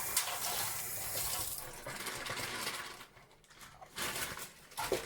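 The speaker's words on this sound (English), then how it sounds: "I'm just going to give it a rinse under the cold tap just to get the salty water off" Cold tap water runs and splashes over a plastic bag of ice and salty water being rinsed in a kitchen sink, a steady close rush with brief clatters and a short dip near the end.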